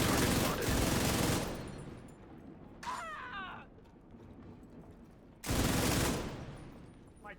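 Video game turret fire in long, dense automatic bursts, loud and close, with a quiet gap in between and a short mechanical whir before the final burst.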